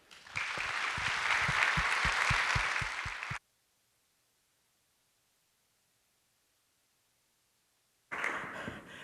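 An audience at a school district event applauds for about three seconds to welcome the Northshore School District superintendent, a dense burst of clapping. Silence follows, then the applause picks up again briefly.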